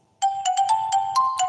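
A phone ringtone plays alone: a bright electronic melody of short, repeated tonal notes over a steady underlying tone, fairly loud and close, lasting the whole moment.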